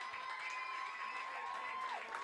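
Applause and cheering from a Watertown crowd giving a standing ovation at a Class C state tournament baseball game against Cold Spring, a steady dense wash of sound with a faint tonal whine running through it.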